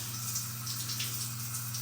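A shower running in a state park shower house, a steady close hiss of water spray at good pressure, constant and unbroken with no voices.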